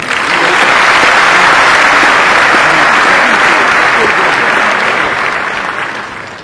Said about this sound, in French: Ils méritent ovation.